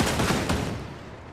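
A dense burst of rapid video game gunfire rattles continuously and loudly, then tapers off toward the end.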